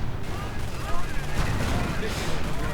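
Video-game battle with rapid gunfire and booming explosions from panzerjets and bazookas, loud and continuous with overlapping shots and blasts, with a voice faintly mixed in.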